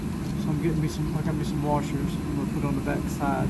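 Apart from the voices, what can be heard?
turbo heater running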